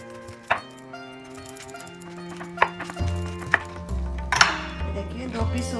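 A knife cuts through a jackfruit in a kitchen: a few sharp chops and thuds land irregularly, then a heavier low scraping and crunching as the blade presses through, with faint ringing background tones.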